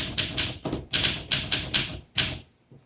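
A 1958 Olympia SM3 vintage typewriter being typed on, about ten quick, loud keystrokes in an irregular run, with a short pause partway through and a faint final tap after a gap.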